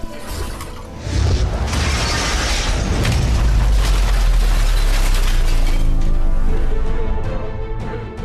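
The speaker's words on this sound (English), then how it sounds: "your weight goes straight through the glass, and you fall into the floor below" Glass window shattering under a landing robot in a video game, a loud crash bursting in after a second and rolling into a sustained booming rumble with scattered breaking debris before fading out.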